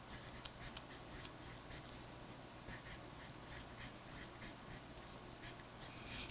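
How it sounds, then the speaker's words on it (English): A heading being written in a notebook with a pen or pencil, soft rhythmic scratching strokes in short bursts, close and quiet over a faint steady hum. "So let's write our heading,"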